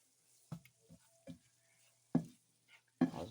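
Flour being stirred into hot sausage grease in a pan for gravy, a few separate scraping strokes with soft sizzling between them, close and fairly quiet.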